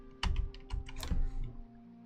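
Quick bursts of keystrokes on a computer keyboard, close and fairly quiet, in a short uneven run of taps with no talking.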